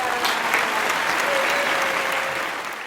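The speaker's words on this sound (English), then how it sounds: "let's give a round of applause to Bruno Piña." A living-room audience at a Pride talk series breaks into dense, steady applause that holds at an even level and eases slightly toward the end, with no talking over it.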